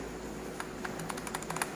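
A few scattered, faint keystrokes on a computer keyboard, heard through a steady background hiss.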